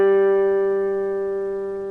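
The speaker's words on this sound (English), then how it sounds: "If I play this note, I'm just playing a note here, 5th fret of 2nd string" A single sustained note from a three-string cigar box guitar, fretted at the 5th fret of the second string, rings steady and clear, slowly fading over two seconds with no vibrato.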